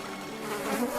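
A fly buzzes steadily near an elephant's ear in a Hindi story sound effect, a continuous close drone with a slight swell in loudness toward the end.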